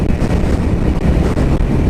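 A 2020 Harley Davidson Sportster 1200 rides along with a continuous, loud engine rumble mixed with buffeting wind noise, steady throughout and with no voices.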